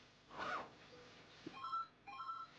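Telephone dialing tones at midnight, a few short beeps and tonal chirps sounding faintly through low background hiss with no talk.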